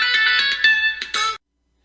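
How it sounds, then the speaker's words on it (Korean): A phone rings partway through a recording, a repeated electronic ringtone in short bursts that stops abruptly, leaving silence. "전화가 와서 깜짝 놀랐습니다"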